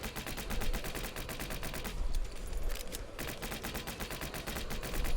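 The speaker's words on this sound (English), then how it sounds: "Maybe just because I'm firing so quickly." Rapid gunfire rattles almost nonstop in a top-down zombie defense shooter game, loud evenly spaced shots in a dense stream, with a brief thinner stretch in the middle.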